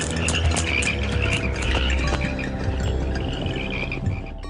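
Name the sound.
toad croaking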